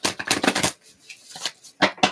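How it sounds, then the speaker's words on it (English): Tarot cards being shuffled by hand in bursts of rapid riffling, a long flurry followed by a pause and then a few short, close, crisp riffles, with no voices. "I'm going to shuffle for you."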